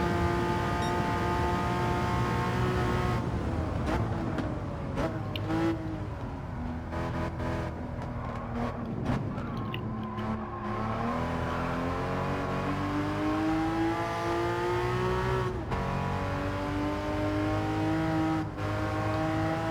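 A Porsche Cayman GT4 engine in a racing game drones loud and continuous around the Deep Forest track, its pitch climbing through the gears with brief dips at each shift and off-throttle moments, and no talk over it.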